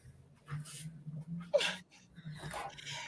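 A dog whimpers and whines in short, soft bursts with breathy panting between them, fairly close and quiet, a faint low hum underneath.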